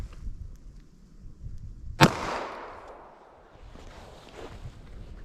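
A single 9mm Speer Gold Dot round is fired into a block of plain clear ballistic gel, giving one sharp, loud report with a short decaying tail over quiet outdoor background, with no talking.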